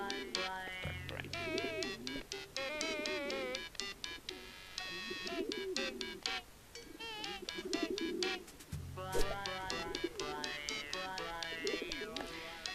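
Carrier pigeons cooing in the video game Hiveswap, repeated soft rolling coos and chirpy calls layered over a steady electronic game soundtrack, with occasional brief voice sounds.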